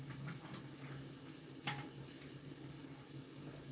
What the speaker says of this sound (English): So I'll throw the water in the tin.